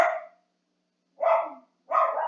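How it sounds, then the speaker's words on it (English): Dogs bark in three bursts, a loud close yap at the start, then two more after a pause, each rough and short, sounding alone with no talk over them. "I'm very sorry if you can hear my dogs"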